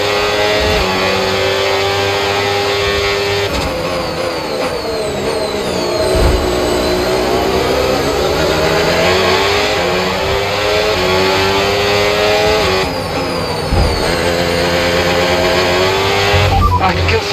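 A simulated F1 race car engine in the video game F1 25 at Sakhir, with the engine reported as faulty. A sustained, loud, high-revving whine sweeps up and down in pitch through gear changes, with faint talk in places.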